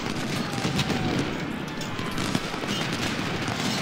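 Musket fire in Ultimate General during a Civil War battle, a thick continuous crackle of overlapping volleys and scattered shots rolling on without pause.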